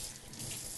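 Tap water runs steadily into a kitchen sink for rinsing deveined shrimp, a constant close, broadband splashing hiss with no voices.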